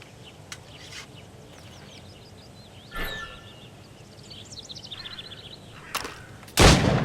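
Gunshots hit targets in Assassin's Creed Rogue: a few sharp shots several seconds apart, then a loud blast at the end, with bird calls in the background.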